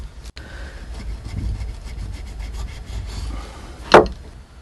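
A blade scrapes and rubs repeatedly across animal hide, stripping fat to prepare leather for shoes; a steady, low rasping texture runs throughout, ending with one sharper scrape.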